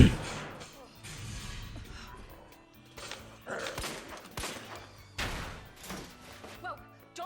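Gunfire from Resident Evil 2 Remake on PS5, several irregular bursts and thuds spread through a busy game mix with music and effects, moderately loud.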